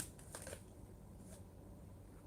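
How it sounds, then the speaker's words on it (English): Tarot cards being shuffled by hand, a steady soft papery riffling and rustling that runs throughout at low level, with a few slightly sharper flicks near the start. "You see how long I was shuffling those cards?"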